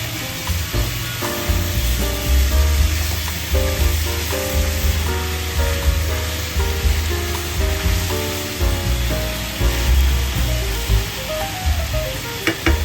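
Humba pork sizzling in a pan as it is stirred with liquid seasoning, pepper and oyster sauce, a loud steady frying hiss with background music playing throughout.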